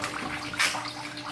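Water rushes and churns inside a tank as it fills, a steady close wash with a brief louder surge partway through.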